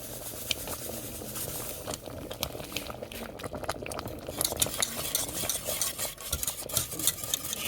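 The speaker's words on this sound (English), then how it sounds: "Keep stirring that." A roux is stirred in a pot as it thickens and cooks for crawfish stinger balls, giving a steady scraping, swishing stir over soft bubbling and sizzle. The sound is continuous and fairly close, with no talk.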